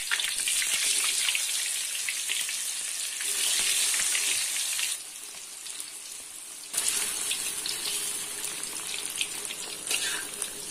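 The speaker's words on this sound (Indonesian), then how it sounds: "Jadi harus digoreng terlebih dahulu supaya tidak hancur ketika ditambahkan dengan bumbu-bumbu yang akan saya tumis nanti." Yellow tofu frying in hot oil in a home kitchen, a steady bright sizzle with crackling that dips briefly mid-way and then resumes, heard alone without talking.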